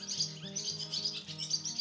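Female songbird singing in the early morning, a run of high chirping notes and quick tweets over a low steady hum, fairly faint and without a break.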